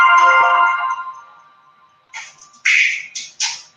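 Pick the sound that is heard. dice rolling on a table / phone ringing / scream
phone ringing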